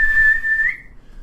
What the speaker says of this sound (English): And there's the whistle. End of the first quarter.